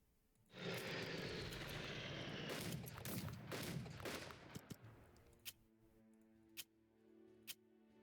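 Bombing run by aircraft in the strategy video game Unity of Command 2: a loud, dense roar of engines and blasts swells for several seconds, then fades to scattered sharp impacts.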